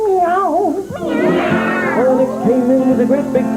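A singer at a children's country music show mimics a big cat's meow, drawing out wavering, sliding yowls that bend up and down in pitch, one long caterwaul swelling in the middle, loud and close.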